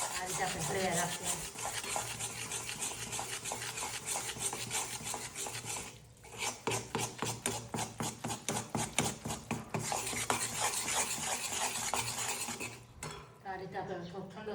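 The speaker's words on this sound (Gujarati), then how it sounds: "આ રીતે આપણે હળવ્યા રાખીએ" A spoon stirs and scrapes thick melted jaggery around a pan for peanut chikki, giving rapid rhythmic metallic scraping and clinking, close up, with a brief pause midway.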